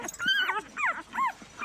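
Reina, a dog trapped with her ten puppies after an earthquake, gives a few close, high whimpering yelps and whines in a short series.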